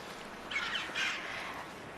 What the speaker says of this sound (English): choughs pair for life, so we see them together like this a lot